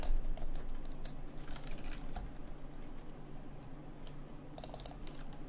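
Computer keyboard keys are pressed in a few scattered clicks and short bursts of taps, close but quiet over a faint steady hum, with no talking.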